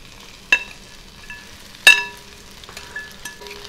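Rice hits a hot pan of green onion oil and fries with a sizzling crackle, marked by two sharp metallic clinks of utensil on pan and lighter scraping stirs in between.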